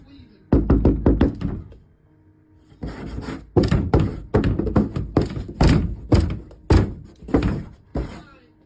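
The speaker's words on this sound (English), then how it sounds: "whatever this thing is rattles the door aggressively as it tries to get in" Something unseen pounds and rattles a door aggressively, trying to force its way in: loud, close knocking and thudding in rapid bursts, a short pause, then a longer run of heavy repeated bangs.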